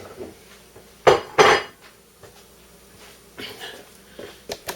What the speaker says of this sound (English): time to chop some fish.